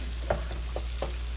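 Lamb loin chops seared in a pan and continuously basted with butter over low-to-medium heat, giving a soft, steady sizzle with a few brief spoon-stirring sounds standing out from it.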